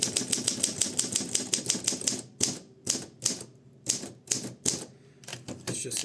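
A 1955 Olympia SM3 manual typewriter clacks loudly and close, a fast even run of keystrokes giving way to sparser, separated strikes with short pauses between them.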